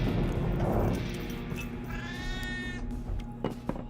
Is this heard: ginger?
no